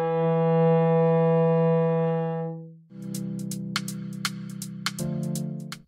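Cello bowing the note E with the first finger on the D string, a steady, rich sustained tone held for several seconds, followed by a few more bowed notes with faint string clicks.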